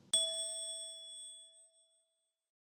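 A single bright ding from a phone notification, one clean chime that rings out and slowly fades over about two seconds, alone with no talk.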